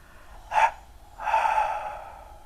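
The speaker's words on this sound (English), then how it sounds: "Hold the breath as long as is comfortable for you, and again breathe out." Breathing out during a pranayama exercise: a short sharp breath first, then a longer, steady airy exhale that fades gently, close and quiet, with no talking.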